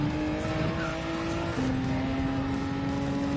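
Race car engine in a racing video game held at a steady high drone, pitch stepping under hard braking with a faint tyre squeal, loud and continuous throughout.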